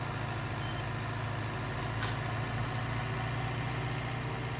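A loader tractor engine runs steadily throughout at a deep, even idle with a constant low rumble, close and unbroken, with a faint brief click midway.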